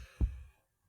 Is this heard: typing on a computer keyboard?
no